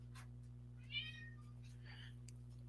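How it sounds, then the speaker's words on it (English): A pet cat gives a single meow near the middle, moderately clear over a steady low electrical hum, with a faint second call shortly after. "My daughter's cat goes meow."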